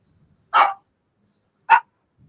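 A dog barks twice, two short sharp loud barks about a second apart, with near silence between and faint background noise around them.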